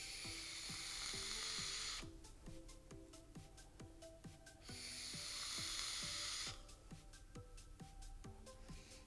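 A Kanger Cupti e-cigarette with a 0.55 ohm coil and open top airflow, fired at 40 watts, gives two long, loud crackling sizzles of vapour separated by quieter gaps, with no talking.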